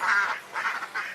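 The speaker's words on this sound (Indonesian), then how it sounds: "Nah, ini dia bebeknya nih." Laying ducks on a duck farm quack close by, two or three nasal calls in quick succession.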